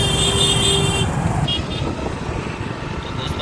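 Heavy road traffic on the way back from Sangam Vihar: a steady, dense rumble of cars and motorbikes, with a sustained horn tone near the start before the noise settles into a continuous roar.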